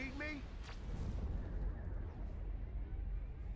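Artillery fire in Supreme Commander: Forged Alliance, a heavy, steady rumble of continuous bombardment that fills the whole moment, with a brief whistling tone near the start and no clear voices.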